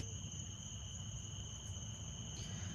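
Crickets chirp in a continuous high, even trill through a quiet New Jersey night, faint and steady, with no talking.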